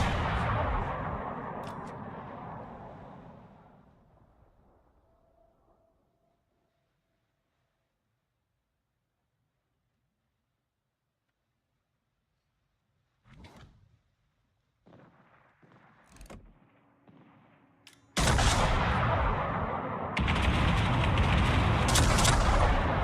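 Heavy naval gun salvos from a warship in World of Warships, a loud rumbling barrage that fades into near silence, then scattered distant booms before another loud sustained roar of fire.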